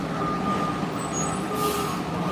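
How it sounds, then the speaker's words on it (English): A garbage truck rumbles nearby in traffic, its heavy engine droning steadily with a brief hiss of air brakes near the end. "Dang garbage truck right there."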